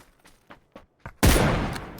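Gunfire in a PUBG PC tournament match: a few sparse shots pop at first, then a loud sustained burst of rapid fire erupts close by and carries on to the end.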